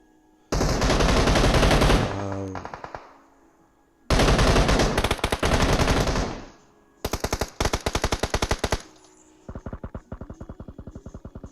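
Rapid automatic gunfire rattles in long, loud bursts during a competitive shooter video game match, with three heavy sustained volleys and a lighter stuttering burst at the end, and no talking.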